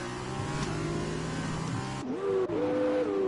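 A GP2 race car in a racing video game swings through a tricky set of corners at Spa, its engine droning loudly and steadily, then dropping and climbing again in pitch through gear changes.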